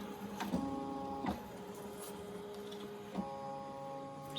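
A Ricoma EM1010 embroidery machine traces a design over a tote bag, giving off a steady mechanical hum with a few short whirring movements and clicks spread across the span, and no voices.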